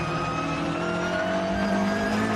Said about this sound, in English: Collard in the rear-wheel drive car, which is slightly more suited to this track, doing the best job of all the Super 2000 cars in 6th place